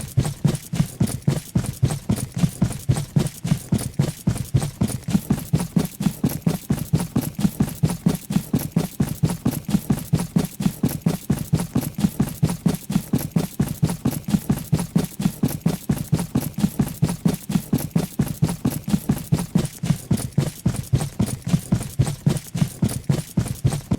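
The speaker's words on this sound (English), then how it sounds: "you can actually tell if you're shift sprinting as the sounds your footsteps make changes" Rapid footsteps of a sprinting character in the game Chaos Overcharged fall in an even, fast rhythm, a dense train of clipped, mechanical-sounding thuds repeating without pause for the whole stretch, loud and close.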